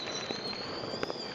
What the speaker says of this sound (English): You got fireworks in the background